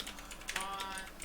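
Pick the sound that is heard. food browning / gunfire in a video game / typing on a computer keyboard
typing on a computer keyboard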